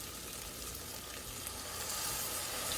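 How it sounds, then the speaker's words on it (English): White wine hitting a hot pan with red pepper, deglazing for a turkey chowder: a steady, close, loud sizzle and hiss that holds throughout with no voices. "I'm going to add a little white wine."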